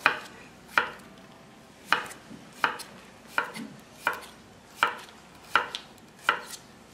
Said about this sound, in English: Now we cut cucumber in half, like this, and then slice an angle